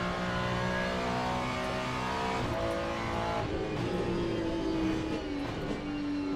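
A GT3 race car at Imola in Le Mans Ultimate roars continuously through corners, its engine note rising and falling with revving and downshifts, loud and close with no talk over it.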